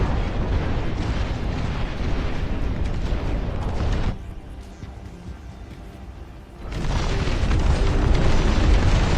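Napalm and bomb explosions in the real-time strategy game Dust Front RTS, loud overlapping booms and rumbling blasts that dip briefly midway before surging again, with no talk.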